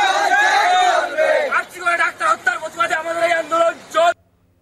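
Junior doctors on a protest march chanting in unison, a loud crowd voice carrying a long drawn call followed by rhythmic clipped slogans, close and dense.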